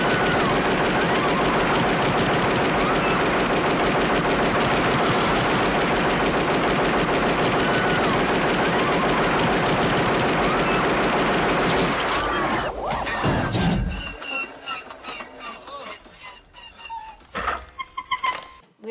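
Sustained rapid machine-gun fire from the ED-209 robot in the 1987 RoboCop film, loud and continuous for several seconds before breaking into scattered bursts, crashes and debris clatter.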